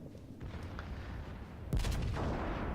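Bismarck battleship secondary guns firing in World of Warships, a dense burst of overlapping gunfire booms breaking out sharply partway through over a steady low rumble of battle noise.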